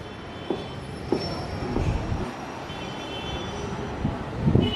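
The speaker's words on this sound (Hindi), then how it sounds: "मेट्रो आ रही है" Kolkata metro train near Kalighat passing close to a residential building, a continuous low rumble with faint rhythmic clunks and a high whine, growing slightly louder toward the end.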